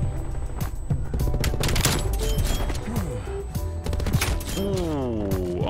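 The MG-82 light machine gun fires in Call of Duty: Black Ops Cold War, a loud, rapid stream of shots over game sounds and music, with someone speaking over it.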